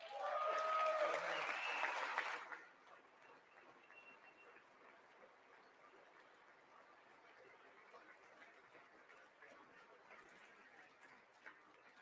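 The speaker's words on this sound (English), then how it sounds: "I wasn't sure if anybody even on this side was going to applaud for that." Audience at the State of the Union address bursts into loud, dense applause for about two seconds, then it drops away to a faint murmuring room with scattered noise.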